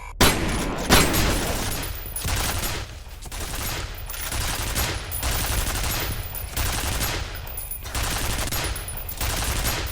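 Sustained enemy gunfire in the shooter game F.E.A.R., dense automatic bursts with heavy impacts and debris, loud and close, continuing almost without pause with brief gaps between volleys and no talk.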